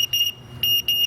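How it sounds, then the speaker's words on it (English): A Draeger gas monitor alarm sounds a shrill electronic tone in quick repeated bursts, loud and close, with no voices. "As soon as the A2 alarms are done, then I can turn off that alarm, just like on all Draeger meters"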